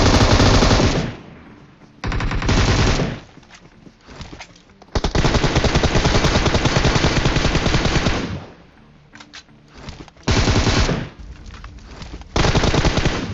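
In a shooter video game, an M4 rifle rattles off long, loud bursts of rapid automatic fire, several sustained strings separated by short pauses and quieter gaps, close and dominant throughout.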